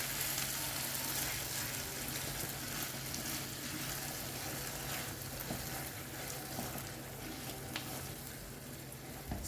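Cooking cream being stirred into a pan of food: a continuous soft sizzle and bubbling with faint scraping, steady and close, with no voices.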